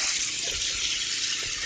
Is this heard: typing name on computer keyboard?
no